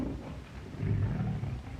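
A tiger roars in a jungle setting, a low rumbling growl that swells midway and stays loud and close before easing off, with no voices over it.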